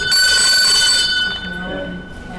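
A bell is rung, giving a bright, sustained ring with a high metallic tone that lingers and fades over about two seconds, amid noisy room chatter.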